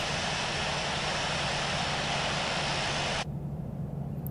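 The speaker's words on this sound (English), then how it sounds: "we'll let the aircraft roll out on the runway here" An airliner rolls out on the runway after landing in the Infinite Flight game, its steady, loud engine roar and broadband rush filling the clip before cutting abruptly to a softer hum.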